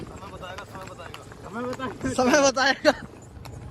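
A horse ridden outdoors in a race clip-clops with a steady hoof rhythm under people's loud talk and calls, the beats faintly audible beneath the voices.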